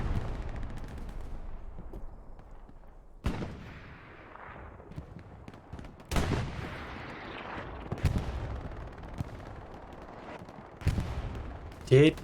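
Tank cannon fire and other battlefield blasts in Hell Let Loose during a competitive match, several sharp booms spread over the stretch under moderate game noise and faint commentary.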